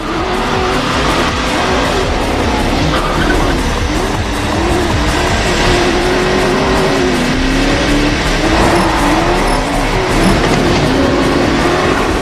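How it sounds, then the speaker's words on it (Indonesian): Race cars roar continuously at close range as they chase each other through a street race, engines droning and revving loudly without a break. "Balapan berlangsung seru, saling kejar-mengejar, mempertaruhkan harga diri dan demi dendam yang membara."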